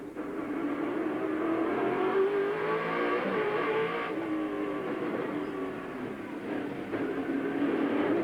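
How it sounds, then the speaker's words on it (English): Australian V8 Supercar racing engines from the 1996 season roar continuously at close range on the Wellington waterfront street circuit, with several cars revving and shifting as they pass in tight succession. "don't they sound great, these great Aussie V8s"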